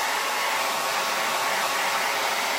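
A hair dryer blows on a door hanger to dry its paint, a constant loud whooshing hiss held at one level the whole time, close up and free of talk.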